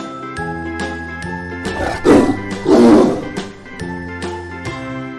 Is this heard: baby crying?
no